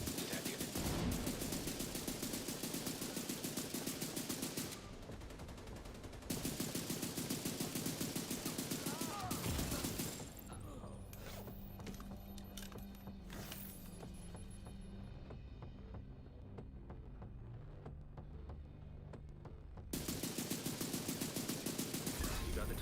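Hostile artillery turret fire in The Division 2 comes as long loud bursts of rapid gunfire, broken by quieter gaps filled with game sounds and player talk.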